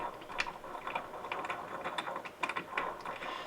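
A C-clamp on a microphone arm being screwed tight onto a desk, a series of close, uneven ratcheting clicks and creaks in short bursts, with no voice over them.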